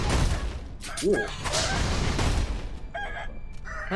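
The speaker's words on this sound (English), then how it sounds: "Well, these are some really amped up chickens." Aggressive chickens in Sekiro cluck and squawk in quick bursts over rumbling game sound and combat thuds, with someone talking over them.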